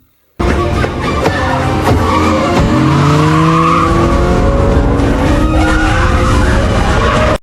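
A car speeding out through a mansion gate, its engine roaring loud and close with squealing, skidding tires as it accelerates away, continuous and without talk.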